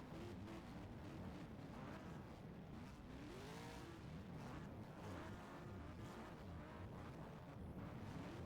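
Stock cars roar continuously through a heat at the North Island stockcar championships in New Zealand, a dense, steady engine drone with wind buffeting and no clear breaks.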